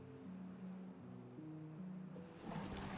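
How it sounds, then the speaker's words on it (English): Water pumped and flowing through a reservoir in the beaver city-building game Timberborn, a soft continuous rushing wash with low droning tones underneath, faint and steady, swelling slightly at the end, with no talking. "You can be pumping water now."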